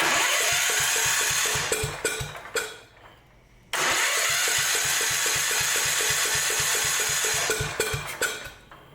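A small carbureted engine on an old machine runs with a rapid, fuel-starved popping beat that drops out for about a second, then catches again and keeps chugging close by.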